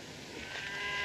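Cattle lowing on an Old West ranch, a single drawn-out moo that swells toward the end, moderately loud against a quiet background.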